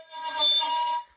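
A violin string pressed too lightly on the A or D string gives a thin, airy bowed tone with a wavering, unstable pitch, held for about a second at moderate volume.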